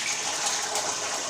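Potatoes go into hot oil and sizzle in a home kitchen: a steady, dense hiss with no break and no talk.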